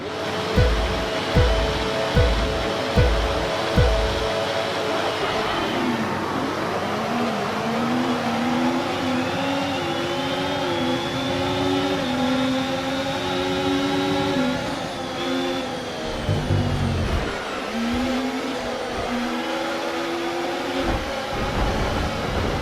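A Formula 1 car's engine in the racing game F1 24 wails and climbs through gears after a series of punchy low thumps, then dips and surges again, a loud continuous whine with no voices.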